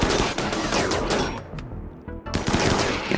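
Bursts of gunfire from colonists defending their base in the video game Rimworld, dense rattling shots in quick succession with a brief lull midway before the firing resumes, loud and with no talk over it.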